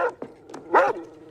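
A dog gives a few short, sharp barks and yelps, with one louder bark near the end, in a tense indoor scene. The dog is close by and the clip is brief.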